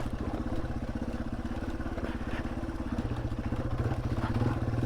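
Yamaha TW off-road motorcycle chugging slowly along an Ozarks trail, its single-cylinder engine thumping steadily at low revs up close, with rattling and clatter from the bike over rough ground.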